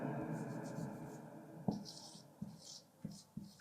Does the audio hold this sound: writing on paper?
yes